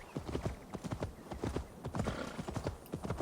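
Horse hooves thud in a steady galloping rhythm as a rider travels across the countryside of England in Assassin's Creed Valhalla, close and continuous, with a brief whinny.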